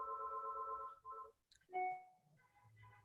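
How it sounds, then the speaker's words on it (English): A phone rings in a quiet home during an online design meeting, a faint electronic ringtone with repeating tonal bursts and short gaps, heard alone with no talk. "And I'm gonna let my phone ring."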